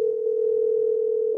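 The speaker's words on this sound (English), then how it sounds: "Hold on, I got a phone call." A telephone sounds a steady, unbroken electronic tone, loud and close, holding evenly for the whole stretch with no voices.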